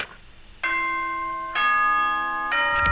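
A synthesized chime from the Danganronpa video game, three sustained bell-like tones rising in steps, loud and clear, each note ringing on into the next with no voices.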